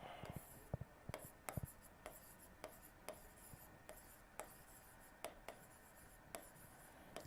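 Pen or chalk writing the word Karyolymph in English on a board, a run of short scratchy strokes and taps in a steady irregular rhythm, close and fairly quiet, with no talking.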